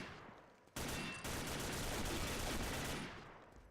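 Rapid automatic gunfire in a first-person shooter clan war, a sustained burst of close, loud shots starting abruptly after a quiet moment and trailing off toward the end.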